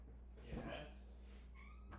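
A pet cat gives a short, faint meow close by, partly under a person talking.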